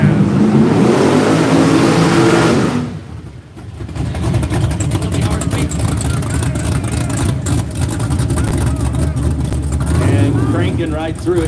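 A Mustang drag race car's engine roars loudly at a racing event in the woods, revving hard, dipping briefly, then surging again as a continuous close, rumbling drone with a voice talking over it.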